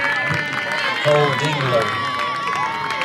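Home crowd at a high school baseball game between Cedartown and Sonoraville cheers and makes steady noise, with a clear voice calling out over the continuous crowd roar.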